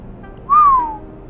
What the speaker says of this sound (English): PK whistles.